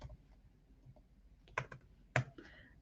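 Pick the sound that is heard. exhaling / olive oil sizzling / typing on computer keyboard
typing on computer keyboard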